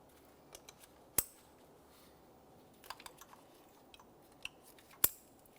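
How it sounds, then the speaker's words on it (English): Electrical connectors on the ignition coils of a 2014–2018 Mazda 3 2.0L snap into place during valve cover work: two sharp, crisp clicks about four seconds apart, with faint handling rattles in between. "Line those up with their corresponding ignition coils, press them in until you hear a click"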